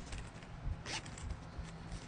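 A zipper on a small nylon mini wallet being pulled open, a quick close scratchy run of teeth over faint room noise, with no voices.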